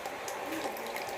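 Salt and tamarind water poured into a pan of bitter gourd for homemade pickle, a continuous close liquid splash with no pauses.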